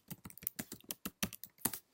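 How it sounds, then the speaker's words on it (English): Crisp, distinct keystrokes on a computer keyboard tap out a steady run of about a dozen presses, close and clear in an otherwise quiet room, as text is typed onto a page. "So if I start typing"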